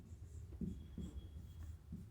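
Chalk or marker strokes on a board during a physics lecture, a handful of short scratchy rubs in uneven rhythm, quiet and close, with no talking.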